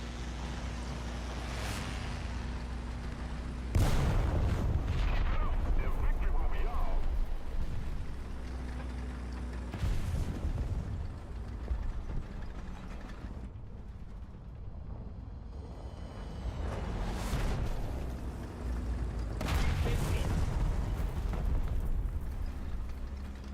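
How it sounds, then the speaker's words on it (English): Heavy booming blasts from bombs dropping in a tank combat video game, several deep explosions spaced seconds apart over a constant rumbling engine drone, loud and close with no talking. "Did that guy try and bomb me 3 times?"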